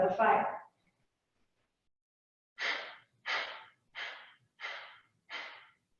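Breath of fire yoga breathing during a seated twist: one long breath, then five quick, forceful rhythmic nasal exhales, close and clear in a quiet room.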